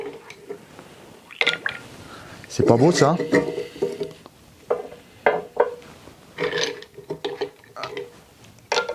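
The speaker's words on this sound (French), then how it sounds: "Je me mets mes petits glaçons là." Ice cubes are dropped into a portable fridge cooler, giving several sharp clattering knocks and rattles in separate bursts, with someone talking in between.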